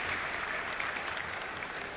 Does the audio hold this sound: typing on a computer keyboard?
no